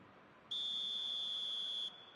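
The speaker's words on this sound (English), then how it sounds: "And the whistle's gone, presumably for offside." A single sustained referee whistle in the eFootball video game, a shrill, steady tone lasting about a second and a half over a quiet crowd background.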